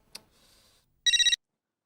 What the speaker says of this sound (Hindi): उमाताई का फोन?